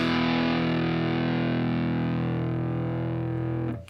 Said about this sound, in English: if we bar that index finger across that next string, we can get that E note as well